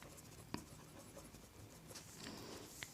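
Marker strokes on a board while a maths solution is written out: faint, soft scratching with a couple of sharper taps, very quiet and heard alone.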